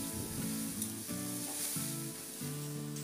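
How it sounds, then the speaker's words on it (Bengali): Spice paste, thinned with a splash of water, sizzles steadily in hot oil for a fish curry while being stirred, with soft scraping strokes throughout and a tonal hum running underneath. "এবার এটাকে একটু নাড়াচাড়া করে নেব মশলাটাকে।"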